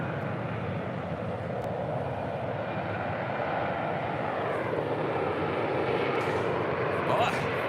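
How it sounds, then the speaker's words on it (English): A Delta Airlines Airbus A321 from Cincinnati lands on the south side at LAX, giving a loud, continuous jet roar that holds steady throughout and swells slightly toward the end. "Coming from Cincinnati, Delta Airlines Flight 393. It's an A321."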